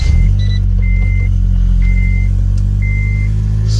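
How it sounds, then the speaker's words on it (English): A 2006 Honda car engine idles steadily and loud and close after starting, a constant low rumble with faint intermittent high beeping tones over it. "Let's go ahead and start her up now"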